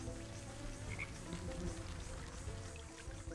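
Frog croaking in the video game Wytchwood, a low, continuous rumbling croak steady at moderate level over soft rain-like patter, with no talking.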